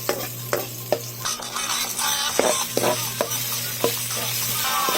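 Tuway clam meat cooks in a pot with a continuous sizzle, punctuated by a few sharp clinks and scrapes of stirring.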